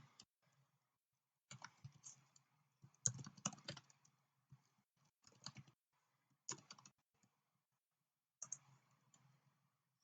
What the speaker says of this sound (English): I'm going to type in our data